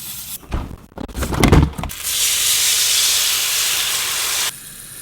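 An egg white omelet sizzling in a pan, a loud steady hiss that follows a burst of clatter and handling and then stops abruptly.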